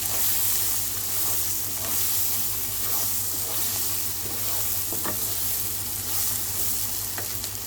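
Egg Maggi masala frying in a pan with mint leaves, giving a steady loud sizzle and hiss throughout, with occasional scraping clinks of stirring and no talk.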